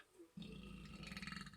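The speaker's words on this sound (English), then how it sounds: "Pardon me, lots of burps" A man lets out a long, low, rumbling burp that lasts over a second, close and fairly loud after a brief quiet start.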